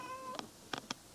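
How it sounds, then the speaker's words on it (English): A cat gives a faint, drawn-out meow, followed by a few quick, soft clicking taps spaced through the rest of a quiet indoor moment. "Cat, shut the hell up."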